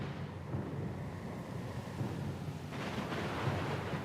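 Thunderstorm ambience in the video game Pillars of Eternity II: Deadfire, a steady broadband roar of rain and wind with low thunder rumbles, swelling slightly louder in the last second, with no voices.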